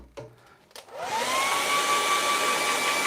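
A hair dryer blows on fresh paint, starting after a couple of clicks and handling bumps, then settling into a steady, loud, close whoosh with a high whine that holds without talk.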